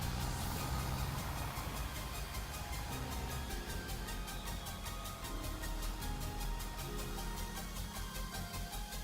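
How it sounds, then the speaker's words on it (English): A small tractor engine in Farming Simulator 25 runs steadily at a low idle, with a constant rumble and faint periodic ticking through the whole stretch. "Let's get the little tractor and scan this before we go and do this."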